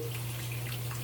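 Tap water runs steadily into a sink while skincare products are washed off the face, a constant close hiss with no speech.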